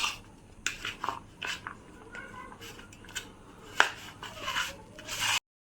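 Hands mix and knead a soft boiled potato mixture in a bowl, giving a run of irregular squelching rubs and scrapes at close range with a few sharper clicks.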